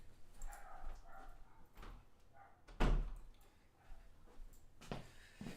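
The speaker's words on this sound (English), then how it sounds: "It makes my dogs go crazy." Dogs in a house under construction bark in short scattered bursts, fairly faint and indoors, with a loud thump or door bang partway through and other household noise around them.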